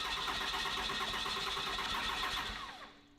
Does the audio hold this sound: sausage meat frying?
no